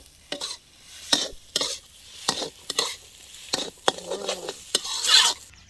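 Shrimp being stir-fried in a pan for Thai prawn fried rice, with sharp rhythmic bursts of spatula scraping and tossing against the pan over a soft sizzle, close and loud, no talking.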